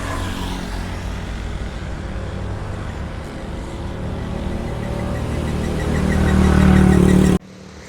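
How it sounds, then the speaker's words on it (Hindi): Passing traffic on a Lahore street: a steady, loud wash of car and motorcycle engines with mid-range rumble, swelling as a nearby vehicle accelerates close by, then cutting off abruptly near the end. "ट्रैफिक आ जा रही है।"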